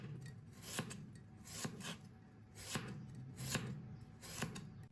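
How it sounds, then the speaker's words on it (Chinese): A knife cuts a fresh cucumber into thin strips on a board, five or six crisp chopping strokes spaced roughly evenly, each with a short rasp, close but quiet, and nobody speaking. "再切成黄瓜丝"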